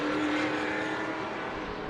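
Race cars on a short oval speedway accelerate together onto a restart, a dense, steady engine roar that stays loud and close throughout without talk.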